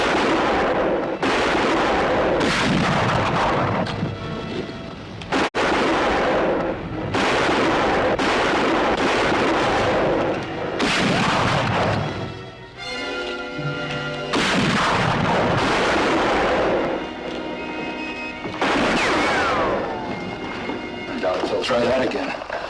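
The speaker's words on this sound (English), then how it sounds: "About every minute, fire through the window." Repeated rifle gunfire fired through a window in an Old West standoff, loud sharp reports with rolling echoes recurring every few seconds, mixed with background commotion and some voices.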